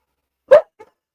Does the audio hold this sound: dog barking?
yes